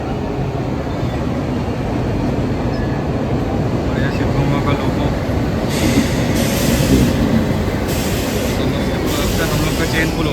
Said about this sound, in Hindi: वहाँ से कोई ट्रेन निकल रही थी